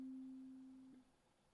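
A one-shot kalimba sample playing a single C note, a steady pure tone that rings clearly and then stops abruptly about a second in, alone and fairly quiet.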